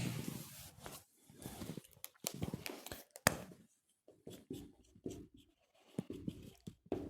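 A pen scratches across paper in short bursts of quick strokes with brief pauses between, close and dry, heard alone while writing out agricultural notes during a lesson.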